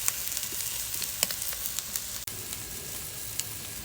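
Stuffed pork chops sizzle steadily on a wood-fired grill, a soft, even crackle with a few sharper pops, heard up close with no talking.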